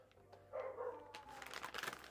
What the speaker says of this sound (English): My dog loses his mind.